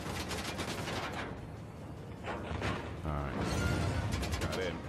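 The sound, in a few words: gunfire from video game Uncharted: The Lost Legacy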